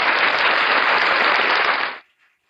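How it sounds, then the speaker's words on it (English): A thick burst of close, loud applause runs for about two seconds and then cuts off abruptly into silence, like a dropped-in clapping effect. "Let's give them all a round of applause and all that good stuff."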